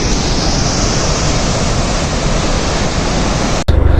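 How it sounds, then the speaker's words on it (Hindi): Water gushing loudly and steadily as it flows into the Shyok river in Ladakh's Nubra valley, a dense, unbroken roar close by that cuts off sharply near the end. "और फिर इधर से ऐसे ऐसे ऐसे पानी निकलता है, उधर जाता है नदी में, सियोक लीवर में मिल जाता है।"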